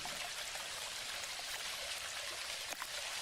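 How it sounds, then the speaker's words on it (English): Steady broadband watery wash in the game Mangrove Isle, a continuous close rush of splashing through water with small drip-like ticks, no talk over it. "I know you hear me splashing"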